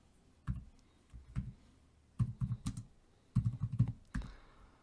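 Quick bursts of clicking keystrokes on a computer keyboard, typed in short clustered runs with brief pauses between, close and fairly quiet, no voices.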